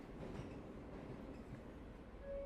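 Inside a metro train carriage, a low rumble of wheels on track runs steadily, with faint rattling and a brief high tone near the end. The whole scene is quiet and subdued, with no one speaking.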